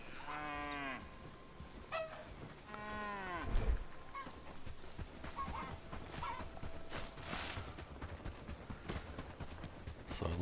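Calf and cows in the game Bellwright give drawn-out harmonic moos near the start, two lowing calls in the first three seconds, followed by softer farmyard clatter and faint hoof-like knocks.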